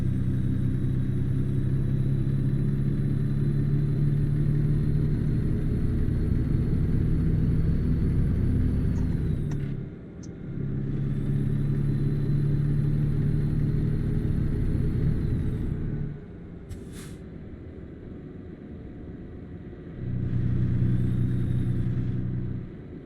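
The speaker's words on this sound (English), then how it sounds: "So I'm gonna have to run the truck tonight for AC" A semi truck's engine runs at idle, a steady low rumble up close. Its drone swells and drops back twice as the pitch and loudness shift.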